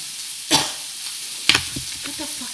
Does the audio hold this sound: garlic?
yes